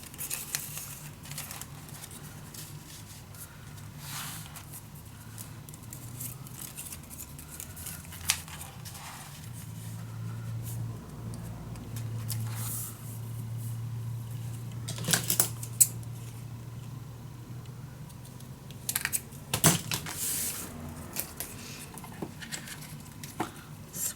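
Scissors cut scrapbook paper pieces for a mini album: quiet, scattered snips and paper rustles with occasional louder clicks, close by in a still room.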